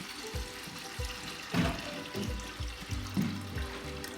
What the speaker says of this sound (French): Je viens mettre l'eau dedans.